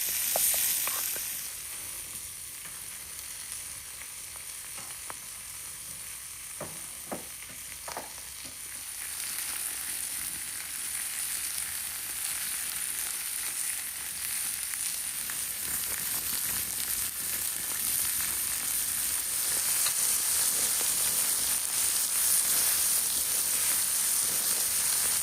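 Tomahawk steaks sizzle steadily while frying in a pan, a continuous bright hiss with occasional pops that builds slightly louder toward the end, close and with no one talking.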